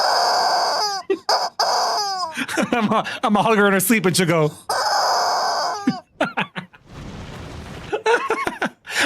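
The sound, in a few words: squeaky rubber chicken toy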